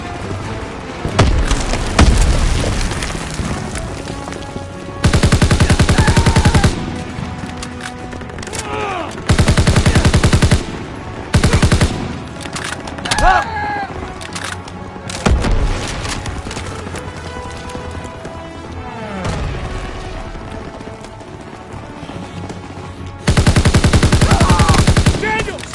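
Anti-aircraft guns and machine guns firing in a Call of Duty battle, loud sustained bursts of automatic fire and heavy booming shots close by, broken by shouted voices.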